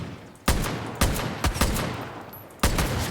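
Gunfire from the video game Far Cry: New Dawn: four sharp, loud shots spaced irregularly, each with a short ringing tail over a steady noisy game background.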